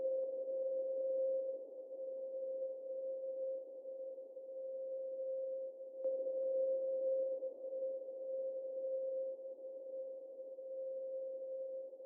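A steady ambient synth pad holds a single C note in FL Studio, a smooth sustained tone with soft noisy texture, briefly re-struck midway and otherwise continuous and alone.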